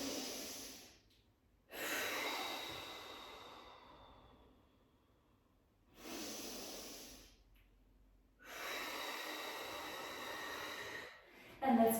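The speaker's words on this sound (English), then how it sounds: "Take a deep breath in through the nose and then exhale out through the mouth" A person draws several slow, deep breaths in through the nose and out through the mouth during a Pilates mat session, each breath a soft airy rush with quiet pauses between, close to the microphone.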